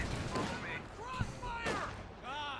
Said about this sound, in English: Gets a bit of autocannon fire there.